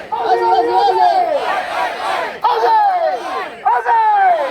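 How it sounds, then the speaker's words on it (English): A large outdoor crowd at an Australia Day gathering in Melbourne chants Aussie, Aussie, Aussie in loud, rhythmic bursts of many voices shouting together, with brief pauses between rounds. "can I get one big Aussie, Aussie, Aussie?"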